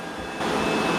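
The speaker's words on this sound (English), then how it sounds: "right now it's vacuuming and mopping at the same time" A Dreame L20 Ultra robot vacuum vacuums and mops at once, giving a steady close whirring hum that rises in level partway through.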